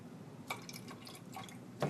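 Water trickles and drips into a measuring cup on a kitchen counter, a faint, close liquid pour with a few small splashes.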